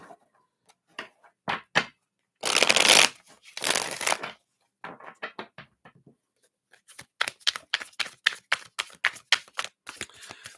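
Tarot cards handled, slipped back into a deck and shuffled close up: scattered soft taps, two dense riffling bursts, then a steady run of quick papery flicks, with no talking.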